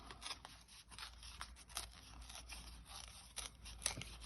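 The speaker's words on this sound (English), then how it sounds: "And you just tear around the stamped image" Thin card paper torn by hand around a stamped image for a scrappy strip card, giving a soft, continuous rustle of fibrous ripping in short bursts, quiet and close with no voices.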